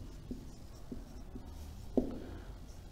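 Handwriting the word perfect: soft, faint scratches and light taps of strokes, ending with one firmer mark, quiet and alone.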